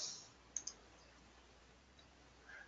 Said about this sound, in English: And I'm clicking back here